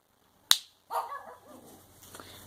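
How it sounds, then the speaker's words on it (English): A dog barks outdoors: a single sharp bark, then a rougher, fading bark-like sound at moderate distance, heard without talk. "my dog's outside"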